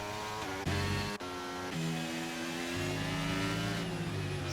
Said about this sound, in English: that car was Misfit making his way to the pits then